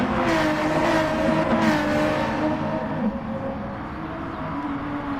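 NASCAR stock cars racing in the video game GT Sport, a steady, loud multi-car engine roar with layered revving tones that swell and fade as cars jostle for position, continuous throughout.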